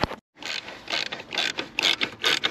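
A deep socket wrench ratchets on a car seat's mounting nuts, giving several bursts of rapid metallic clicking with brief pauses between them, loud and close.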